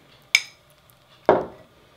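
Someone scrapes down the sides of a container of sourdough starter being switched to einkorn flour, giving two short utensil clinks and scrapes against the vessel, close and crisp, spaced about a second apart in a quiet kitchen.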